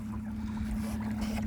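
Steady low hum of an electric boat motor cruising on the Kasari river, with light wash of water and breeze across the microphone, near and constant.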